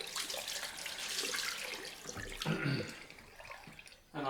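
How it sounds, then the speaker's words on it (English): Tap water runs steadily into a bathroom sink while a cloth is wetted during a wet shave, a close, constant splashing hiss with brief shifts as the cloth moves under the stream. "So I'm just going to wet this cloth down again."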